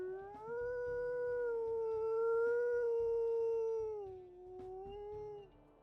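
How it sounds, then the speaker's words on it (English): A single long, steady wolf howl in the game WolfQuest holds its pitch for several seconds, then dips lower near the end before fading out. "Let's go ahead and listen to her howls too."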